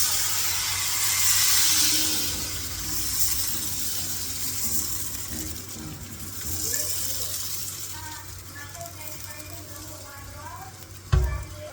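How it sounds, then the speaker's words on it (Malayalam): Appam batter cooking in a pan, giving a steady soft sizzle and hiss of steam that continues throughout, with faint stirring and clinking, then a sharp clank near the end. "നമുക്കൊരു അപ്പം അങ്ങ് ചുട്ടാലോ."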